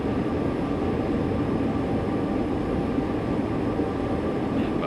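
In a train simulator game, a heavy freight train with dynamic brakes engaged climbs a hill, giving a dense, steady low rumble and whine with no pauses.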